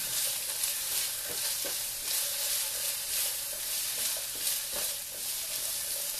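Rice and vegetables being stir-fried for omurice give a continuous sizzle in a pan, broken by repeated clacks and scrapes as the food is turned and moved, with no talking.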